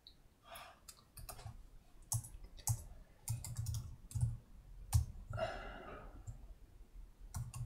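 Close, faint computer mouse clicks, scattered and irregular with short gaps, plus a few soft keyboard taps and a quiet breath, as the green run triangle in PyCharm is clicked to execute a program.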